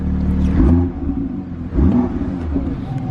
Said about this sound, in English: I'll give it a little quick rev for you guys